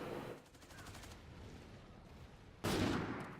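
Video game gunfire, a rapid burst of shots in the game followed by quieter rumbling ambience, then a loud sudden blast near the end, no talking.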